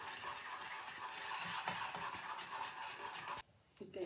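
A spoon scrapes and swirls through cocoa powder and melting chocolate in a pot, a close, continuous gritty stirring that breaks off briefly near the end.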